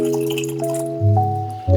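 Water poured into a blender for an alkaline green smoothie: a close, bubbling splash with gurgling glugs that swell in short surges, loud and alone.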